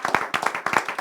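A church congregation claps to acclaim Jesus, dense, lively hand clapping in quick rhythmic bursts, close and full, with no talk over it.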